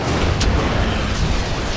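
A fire spell cast in Dragon Age Origins bursts with a quick whooshing crackle and a low rumbling roar, dense and fairly loud, with no voices.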